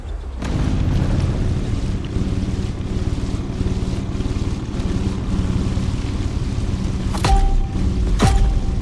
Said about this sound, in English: the contestants are already sailing at full speed